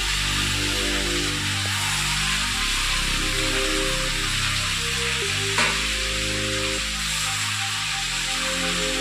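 Taro frying in a pan sizzles with a constant, loud hiss over a low droning hum, with no speech.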